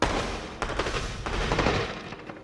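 Fireworks in the theme-park game Planet Coaster crackle and pop in a dense, continuous barrage of bursts with no voices.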